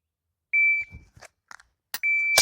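Electronic shot timer beeps a random start signal: a sharp, loud, steady tone near the start, quiet shuffling and handling noises, then a second long beep near the end.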